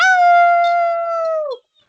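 A person imitates a wolf howl: one long, steady, clear wail that slides down at the end and stops after about a second and a half, close and loud with no other sound.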